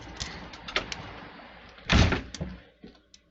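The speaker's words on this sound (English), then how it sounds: "You don't think opening and shutting doors is loud until you're making a video" Indoors, a door is worked open and then shut with a loud, close thunk, surrounded by a scatter of smaller knocks and rattles.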